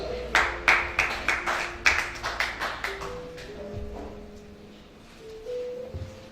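Congregation at a church teaching service clapping in a quick burst of loud rhythmic claps that soon thin out, with tonal music or voices sustaining underneath as the clapping fades.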